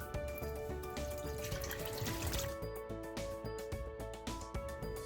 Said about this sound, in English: we're going to pour our milk into the Instant Pot.